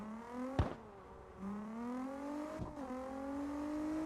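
A car engine accelerating, its pitch climbing steadily through a gear change and rising again, heard from inside at moderate volume with a couple of brief thumps.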